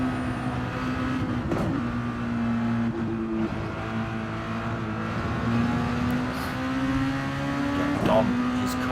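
Red Bull Juniors race cars run at speed with a continuous engine drone and a few quick gear shifts, while a commentator talks over the sound throughout.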